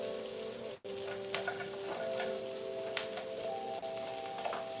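Butter sizzling in a frying pan, a steady close crackle with occasional sharp pops and a brief dip near the start.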